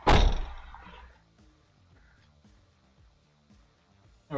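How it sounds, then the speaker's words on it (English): A door is pulled shut with a single solid thud at the start, and its low rumble fades over about a second into near quiet. "Close the door, sorry for the sound."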